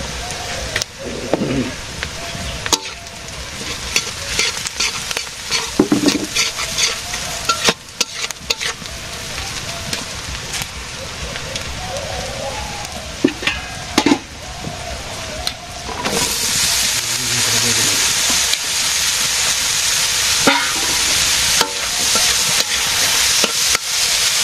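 Onion, green chili, turmeric and chili powder frying in a pan for eggplant bhaji, a steady loud sizzle with scraping and stirring clatter, the hiss growing stronger toward the end.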